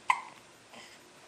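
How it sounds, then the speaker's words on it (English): A baby girl gives a single soft, sharp hiccup, close and quiet, followed by a faint breathy catch. "She's got the hiccups, Christian."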